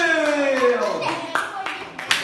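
A few sharp hand claps at a children's taekwondo event, scattered and uneven, with voices and background sound around them.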